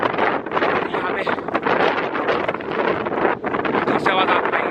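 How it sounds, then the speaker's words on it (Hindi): Strong wind gusts roaring steadily across a misty hilltop in Kanatal near Dhanaulti, loud and continuous buffeting on the microphone throughout, with no voices. "यहाँ पे बहुत तेज हवा चल रही है।"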